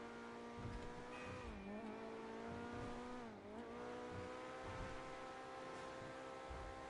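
A fast car in GTA Online with a top engine upgrade but no top transmission drives on steadily, its engine droning loud and constant with a couple of brief pitch dips as gears shift, no voices over it.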